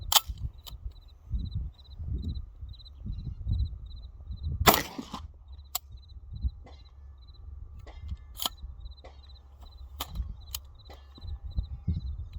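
A Glock PCC fires Hornady Critical Defense hollow points from a Magpul 50-round drum, sharp close shots spaced irregularly with pauses, over a steady outdoor background and a faint repeating high beep.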